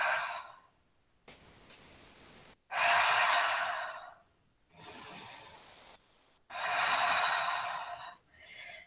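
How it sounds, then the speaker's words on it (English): Slow, deep yoga breaths in a quiet studio: three long, loud exhales, each followed by a softer, drawn-out inhale, in a steady, unhurried rhythm with no talking. "Breathing."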